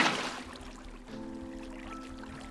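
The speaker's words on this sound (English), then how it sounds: "place the water bucket so it's on this plank" Water from a bucket placed onto a plank in Minecraft, a soft pouring and trickling wash that swells at the start, then a steady flowing stream with a faint hum underneath.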